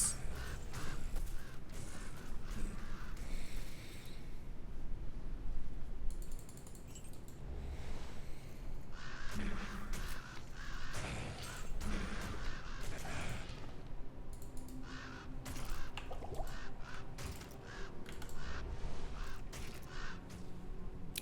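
Ravens cawing in an online multiplayer video game, harsh repeated caws scattered through a dense, busy mix of game effects and mechanical clatter, fairly loud throughout.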